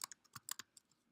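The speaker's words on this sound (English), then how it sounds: "as I type this out" Quick keystrokes on a computer keyboard, about a dozen crisp clicks in a short uneven burst, close and quiet with nothing else around.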